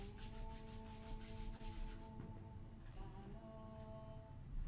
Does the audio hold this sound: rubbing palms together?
yes